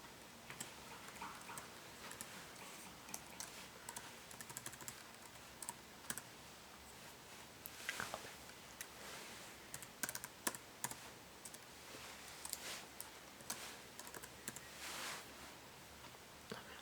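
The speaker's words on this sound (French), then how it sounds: "il suffit de taper son adresse email" Someone types an email address on a computer keyboard, a quiet, irregular run of close key clicks and taps with short pauses between bursts, no voices.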